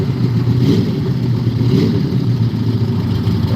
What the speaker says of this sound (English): This next vehicle coming up in the right lane is really, really cool